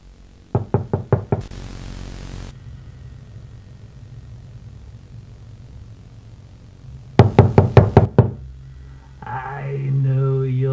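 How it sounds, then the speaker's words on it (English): Knocking at a door comes in two bursts of about five sharp raps each, several seconds apart. Low rumbling fills the gaps, a burst of static sits between them, and a faint warbling tone enters at the end. "until there is a knock at the door"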